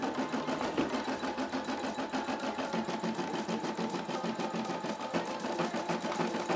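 A Brother SE600 embroidery machine stitches the border around an Uber patch, a steady rapid mechanical chatter of the needle repeating evenly and close throughout, with no voice.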